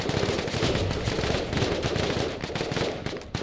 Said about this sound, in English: More civs getting shot at